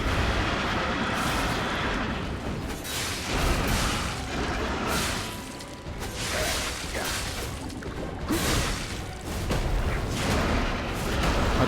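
Heavy booming blasts and rushing whooshes from a tank boss firing in the video game Lies of P, repeated bursts that swell and fade across a dense, loud battle din with no talking.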